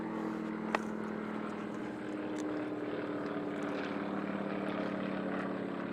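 An Extra 330 SC aerobatic airplane flies overhead during a Power Unlimited Free Known competition, its propeller engine a continuous steady drone, moderately loud, with one brief click near the start and no talk.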